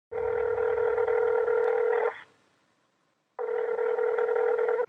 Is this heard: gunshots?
no